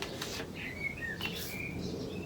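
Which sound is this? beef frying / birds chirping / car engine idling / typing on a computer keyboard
birds chirping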